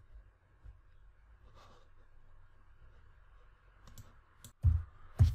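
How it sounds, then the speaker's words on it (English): Mouse clicks on a computer during an Illustrator drawing session: a couple of faint early clicks, then two sharper, louder clicks near the end over quiet room noise. "Choose Rectangle tool, click once on the screen."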